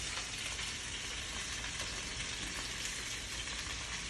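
Olive oil sizzles and crackles steadily in a pan while risotto is started, a soft, even frying hiss with no talking.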